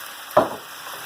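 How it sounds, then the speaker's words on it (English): A short burst of sizzling as broccoli florets drop into hot grease, rising sharply and then settling into a quieter, steady frying hiss. "your broccoli florets go next. And you're going to cook those up real well."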